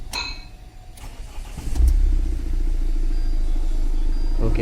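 A 2014 Mahindra XUV500 engine cranks and catches about two seconds in, then settles into a steady, loud idle that continues close by, with no talk over it.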